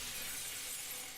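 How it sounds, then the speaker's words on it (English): Magic field in the video game Phantasy Star Online breaking like glass, a brief bright shattering burst with a faint glittering tail, heard alone. "the slightest little knock and it shatters to pieces"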